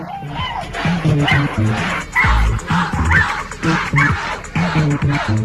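A dog in the VR game Area Man Lives yelps and whimpers over and over after a shock collar goes off, sharp and close, in choppy bursts with a vehicle-like rumble underneath.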